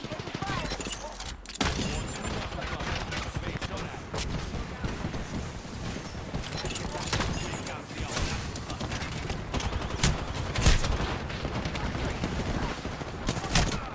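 Dense, sustained gunfire from a combat video game, with continuous volleys, bursts and booming impacts filling the scene at high intensity throughout, while a player speaks over the noise.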